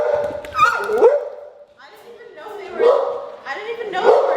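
Several dogs let out of a room during cooking give short yips and barks in bursts, mixed with people talking over them nearby.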